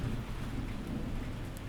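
Steady rain falls in a dense hiss with low rumbling thunder rolling underneath, an even, enveloping storm bed at low volume with no voices.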